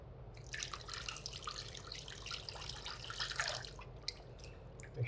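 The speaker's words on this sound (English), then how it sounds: "Next, I'm adding the cold water." Cold water poured from a container into a mixing bowl already holding salt and vinegar for a détrempe pastry dough: a continuous splashing trickle for several seconds, close and moderately soft, ending with a sharp drip.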